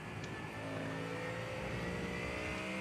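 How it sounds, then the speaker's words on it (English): A GT race car in iRacing at Circuit of the Americas holds its engine against the rev limiter, a steady, droning, buzzing engine note that sustains throughout without letting up. "Little rev limiter there."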